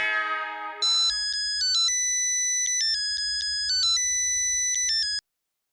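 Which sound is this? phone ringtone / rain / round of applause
phone ringtone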